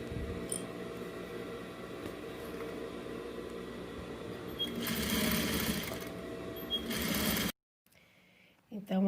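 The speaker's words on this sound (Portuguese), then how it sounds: "Agora eu vou fazer aquela costura de segurança que eu falei em volta de toda a caderneta para juntar as partes" A sewing machine runs steadily, stitching the layers of a fabric vaccination card cover together all the way around the edge, with a louder burst near the end before it stops abruptly and a brief quiet follows.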